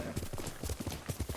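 Horse hooves clip-clop at a quick trot in Ghost of Tsushima, a close, rhythmic run of dull thuds over soft background ambience, with no talking.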